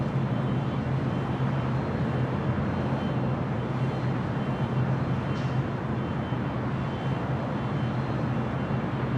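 Spirit Airlines jet rolling down runway 6 left at LAX, a steady broad engine roar that holds at one loud level throughout with a low droning hum, airport ambience around it.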